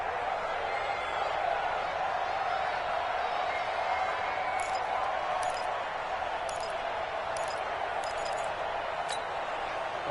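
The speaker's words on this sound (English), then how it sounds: "The crowd here in the Dome making things difficult." Crowd noise in a domed stadium during a football video game: a constant, fairly loud murmur of the crowd, with a few short faint clinks near the end.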